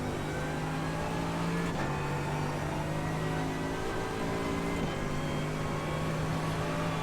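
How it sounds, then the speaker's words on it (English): A race car's engine drones continuously in iRacing at the Nordschleife, with a steady whirring note and sudden pitch drops marking downshifts, close and constant throughout. "the sound of that downshift has definitely changed"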